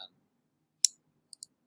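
Computer mouse clicks on an Apple desktop: one crisp click, then a quick pair of lighter clicks about half a second later, close and isolated against silence.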